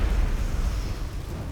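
An explosive-round shotgun fires in the video game Mass Effect, giving a loud, booming blast with a heavy low-end rumble that carries through the whole short moment.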